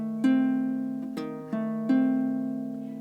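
A three-string chord on a baritone ukulele with the E string left out, strummed four times, each ringing warmly and decaying slowly, close and alone.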